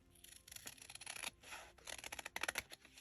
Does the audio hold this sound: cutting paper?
yes